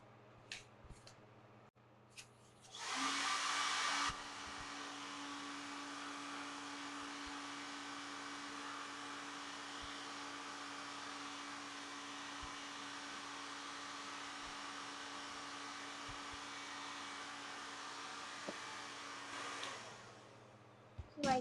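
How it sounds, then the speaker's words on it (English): A hair dryer blows heat onto chalk paste on a craft project, switching on with a brief louder burst, then droning steadily for about sixteen seconds before cutting off, with faint handling clicks around it. "grab the hair dryer and just give this a little heat so that this chalk will go ahead and dry"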